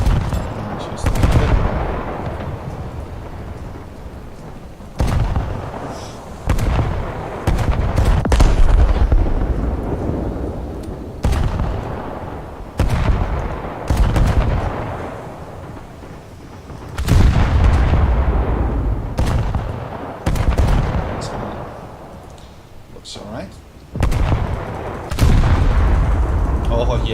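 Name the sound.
battleship main guns firing a volley in the video game War Thunder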